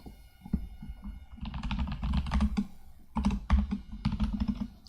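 Rapid typing on a computer keyboard with a full ten-key numeric pad, close and clear, in bursts of clattering keystrokes with short pauses between runs.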